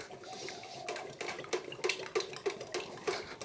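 Paint being stirred in a can of shale grey, a series of wet scraping and knocking strokes against the metal sides, steady and close with no talk.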